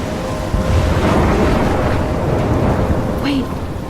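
A thunderstorm in Life is Strange rumbles with deep, rolling thunder over a steady wash of heavy rain, loud and close throughout.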